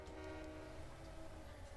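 A video-game Union Pacific SD40-2 diesel locomotive, number 4977, rumbles past at steady volume, its low engine drone layered with horn-like tones and faint rail clatter, with no talk over it.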